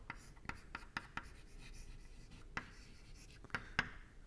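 Chalk or marker strokes on a lecture-hall board, a series of sharp taps and short scraping rubs at an uneven pace, close and fairly quiet over a soft room hum, with no talking.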